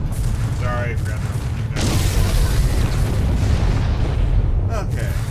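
Starship Corrales blowing up in the space combat game Freespace: The Sixth Seal, a loud, sustained rumbling explosion with deep booming low end and crackling bursts, while voices talk over it.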